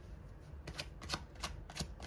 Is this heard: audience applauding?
no